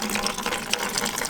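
Coolant drains in a steady, splashing gush from a Lamborghini's cooling system, running continuously and close by with no talk.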